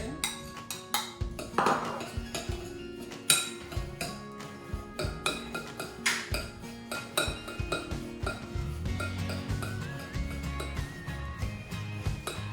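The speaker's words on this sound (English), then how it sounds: "pour it in, mix it up. And this is going to bind the biscuits all together." Crushed biscuits and melted butter are stirred together in a bowl for a banoffee pie base, giving repeated close clinks and scrapes of a utensil against the dish in an irregular rhythm.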